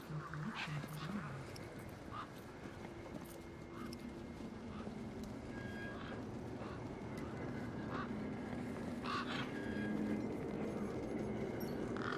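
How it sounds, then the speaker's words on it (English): A large, familiar bird honks repeatedly in Beyond a Steel Sky, its calls coming in scattered bursts over a steady background bed at low level. "One particularly large and familiar bird stood out from the rest."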